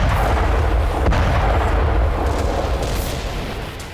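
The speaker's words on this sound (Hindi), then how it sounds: "क्रिमिनिया में रूस ने एक यूक्रेनी हथियार डिपो के परखच्चे उड़ा दिए।" A Ukrainian weapons depot in Crimea explodes in a deep, rumbling blast. The roar stays heavy and sustained, with a sharp crack near the start and another burst later, then slowly fades.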